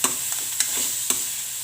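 A vegetable roll filling with chopped coriander is stirred in a hot pan, soft scraping strokes over a steady sizzle, three or four distinct stirs close by.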